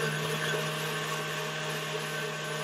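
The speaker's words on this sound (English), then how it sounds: "Can you hear me over the mixer?" An electric mixer beats a frozen strawberry dessert with a steady, close, continuous motor whir and a strong hum that holds even through the whole stretch, with no voices over it.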